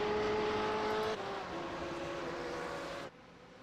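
GT race cars in iRacing at Le Mans scream down a long straight, a loud steady engine drone with a clear pitch drop at each upshift, close and sustained, then suddenly quieter near the end.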